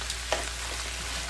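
Garlic dropped into hot oil in a pan gives a faint, steady frying sizzle with a brief clatter near the start, with no talking.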